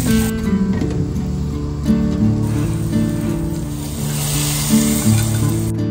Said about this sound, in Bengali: দিয়ে দিচ্ছি ঘি, তারপর দিয়ে দিলাম একটু রসুন কুচো, শুকনো লঙ্কা, গোটা জিরে আর কাশ্মীরি লাল লঙ্কা আর অল্প করে হিং।